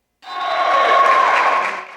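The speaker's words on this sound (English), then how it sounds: "The crowd was roaring in the South Gym at El Camino College" A crowd roars and applauds in a college gymnasium during a basketball win, a loud, sustained wash of cheering that swells after a brief silence and holds steady.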